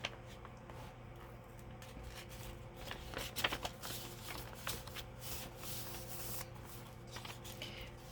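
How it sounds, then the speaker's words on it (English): Paper being torn by hand for an altered book journal: faint, soft ripping and rustling strips in irregular bursts, close to the microphone in a quiet room. "Just need to tear this up a little bit more."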